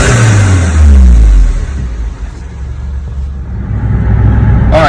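VW Golf MK7 turbo engine fitted with an ECS dual air inlet, revving hard in second and third gear, loud and close from inside the cabin, with a swelling roar that dips and climbs again under a rushing whoosh.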